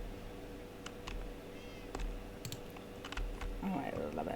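Minecraft cats meowing in short high calls, mixed with sparse clicky keyboard taps and a low steady hum, fairly faint throughout.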